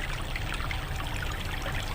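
River water running past rocks, a steady close trickling and pouring rush with dense bubbling texture, continuous and even with nobody speaking.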